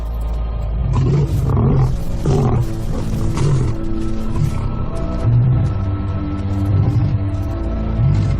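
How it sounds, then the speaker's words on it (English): A male lion, the pride's dominant male, roars a warning in a series of deep, rumbling, repeated grunting roars, loud and close with no other sounds. "The pride male roars his final warning"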